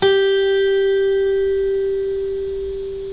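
A single guitar string picked at the third fret rings out loud and clear, one sustained note slowly fading, with no voices.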